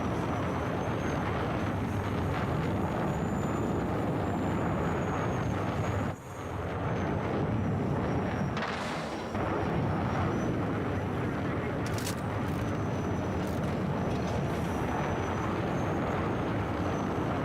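A steady, dense roar from a Battlefield 6 jet fills the whole stretch without a break, briefly dipping once and swelling again, with a few sharp high blips and muffled voices under it.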